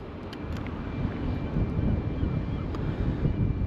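Strong wind buffets the microphone outdoors at a site where logs are turned into electricity, a steady low roaring rumble that swells slightly louder midway and continues throughout with no one speaking.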